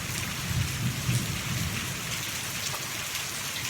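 Steady rain falling with low rolling thunder during a brewing storm, a continuous loud wash of noise with deep rumbles swelling underneath and no voices.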